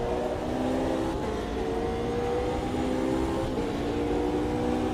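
A BMW race car engine in the Automobilista 2 racing game drones steadily at high revs, a loud, continuous mechanical whine with shifting tonal layers and no speech.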